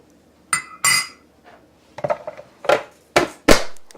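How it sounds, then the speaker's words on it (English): A food chopper fine-chopping onions and celery, giving sharp clacking strikes in uneven bursts, several close, loud knocks of the plunger and blades against the board, with no talking. "this is what I use to fine chop the onions and the celery"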